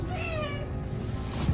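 A newly adopted cat gives a single drawn-out, falling meow, close and fairly loud over a quiet indoor background.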